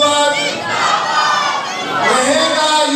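Large congregation at an Eid al-Fitr sermon shouting a slogan back in unison, a loud massed chant with raised voices swelling and dipping over three seconds.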